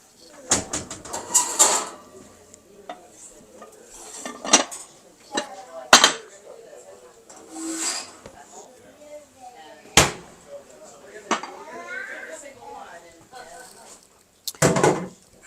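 Dishes, pots and pans clatter and clink in a home kitchen during holiday cooking, with sharp metallic knocks and cutlery rattles in irregular bursts close by, plus faint background sounds between the clanks.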